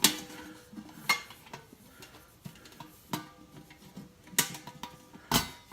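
Stainless steel SoloStove pot and lid handled up close, with several sharp metallic clanks and taps spread irregularly across quiet pauses.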